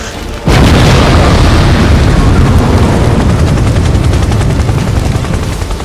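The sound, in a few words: police helicopter blown up in an explosion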